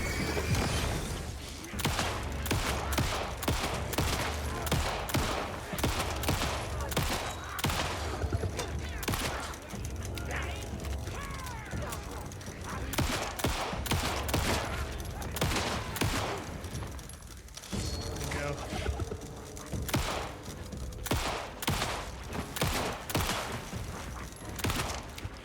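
Gunfire in the video game Alan Wake 2, with repeated sharp shots in uneven bursts over a tense game soundscape, loud and close throughout the stretch.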